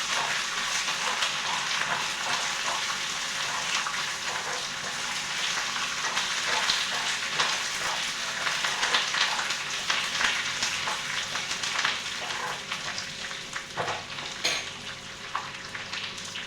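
Curry leaves sizzle loudly in hot oil in a pan, a steady close crackling and spitting that runs throughout, with faint stirring and clinks of utensils.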